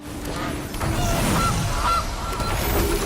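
Honking goose call from a goose card cascading into play in the MTG Arena digital card game, two or three loud nasal honks over a steady game-sound backdrop.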